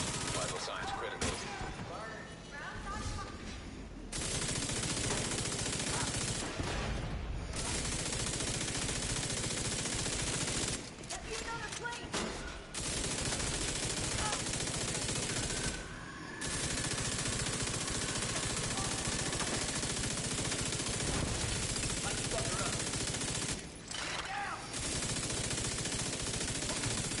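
Sustained bursts of video game gunfire fill most of the stretch, loud and dense, breaking off in several short gaps, with a game voice and background effects mixed in.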